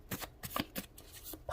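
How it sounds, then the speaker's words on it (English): Tarot cards riffled and shuffled by hand in a series of quick, crisp bursts of papery flutter with short pauses between, close and fairly quiet, no talking. "I'm going to shuffle the deck."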